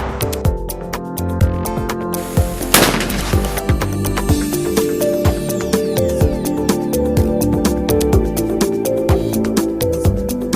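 Repeated gunshots at an indoor-style shooting range in Canada, sharp reports in an uneven series over a sustained ringing background, loud and near, with one especially heavy blast early on.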